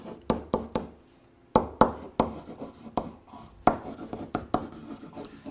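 A pen scratches and taps across a dental diagram of a molar root canal, making short, brisk strokes in irregular bursts with a brief pause near the start, close and fairly quiet.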